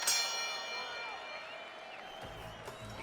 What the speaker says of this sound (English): Working our way towards the bell.